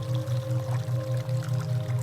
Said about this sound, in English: our eyes start to make out the edges of the babbling brook flowing out